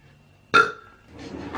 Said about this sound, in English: Not a fart, it's my chair.